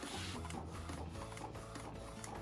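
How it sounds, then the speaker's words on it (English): An Epson 1430 inkjet printer converted for DTF printing runs on roll film, its print head shuttling in a continuous busy mechanical whir with rhythmic clicks, close and steady. "I just want to show you that this printer are really working good."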